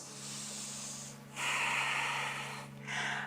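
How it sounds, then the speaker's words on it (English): Slow, deep breathing during a gentle vinyasa yoga class, heard as soft airy exhales and inhales close to the microphone, with two distinct breath swells in a quiet room. "Take another breath in and out"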